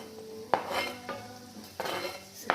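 Shallots, galangal and ginger frying in a pan for fish soup, with soft sizzling and a few sharp clinks of a utensil scraping and stirring against the metal, close and fairly quiet.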